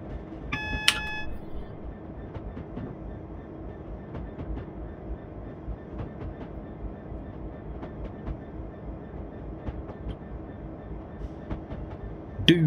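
A Class 66 diesel locomotive hauls Dagenham car wagons on the North London and Gospel Oak to Barking line in Train Simulator 2018, with a steady engine drone and wheel rumble, irregular clicks from the track, and a brief high signal chime near the start.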